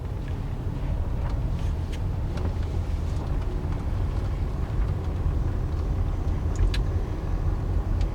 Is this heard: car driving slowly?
yes